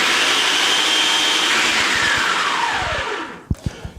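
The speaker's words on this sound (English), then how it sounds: "You want to blend that until it is a fine, fine powder" A blender grinds non-fat dry milk into a fine protein powder, a loud close motor whine that slowly drops in pitch as it spins down, followed by a few knocks.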